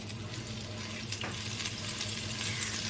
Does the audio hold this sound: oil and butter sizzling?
yes